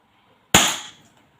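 An AAP01 gun fires a single sharp, close report during a muzzle energy test, with the shot fading fast into silence.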